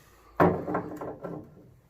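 A wooden desk drawer in an abandoned metal works slides open with a sudden scrape and a few rattling knocks that fade out, close and alone.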